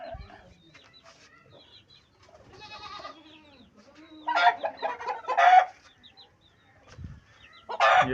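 Aseel chickens on a small farm cluck and squawk in scattered bursts, some near and loud and others softer, with a few brief gaps of quiet between calls.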